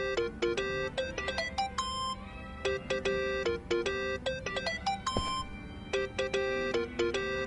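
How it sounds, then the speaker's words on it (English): A mobile phone ringtone in the video game Yakuza: Like a Dragon plays a loud, bright, repeating electronic melody. Short chiming note patterns loop steadily with no talk over them. "Think that's your phone, man."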